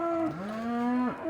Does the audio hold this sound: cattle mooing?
yes